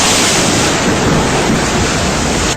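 Huge ocean waves, some 160 feet high, pound against a lighthouse in a loud, continuous roar of surf and spray, buffeted by strong wind rushing across the microphone.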